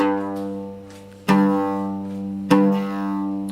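An oud sounds a sustained G note, re-struck twice at even intervals, each pluck ringing out clearly and fading slowly.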